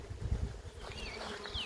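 A swarm of bees in the open air, a low rising and falling drone of many wings close by, with thin buzzing passes of individual bees whining overhead.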